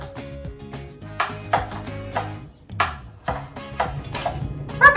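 Kitchen knife chopping butternut squash into planks and cubes on a cutting board, a series of irregular firm thunks and taps against the board with music playing underneath.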